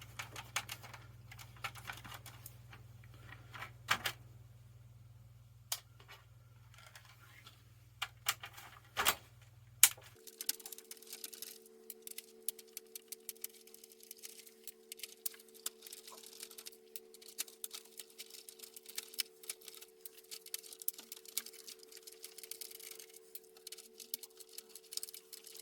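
A brush scrubs over the keys of a VIC-20 computer keyboard in quiet, irregular ticks and soft scratchy strokes, with a low steady hum underneath that shifts pitch partway through.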